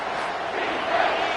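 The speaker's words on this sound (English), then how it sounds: "Decibels rising as the crowd gets behind this defense on 3rd down." Football stadium crowd roaring on third down, a dense, loud, sustained wall of cheering and shouting that swells slightly toward the end.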